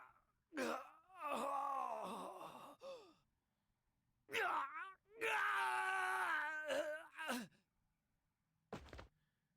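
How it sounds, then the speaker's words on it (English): A character in the Persona 4 Arena fighting game cries out in agony with two long, strained wails that bend in pitch, separated by a short pause. A brief thud follows at the end. "The recruit fell to the ground with an agonizing scream."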